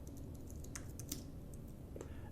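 Code is typed on a computer keyboard, with sparse, quiet key clicks scattered unevenly over a low steady background hum and no voices.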